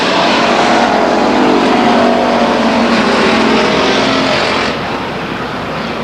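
Race cars at Stockton 99 Speedway roar side by side out of turn 4, a loud, dense, continuous engine drone that eases slightly near the end.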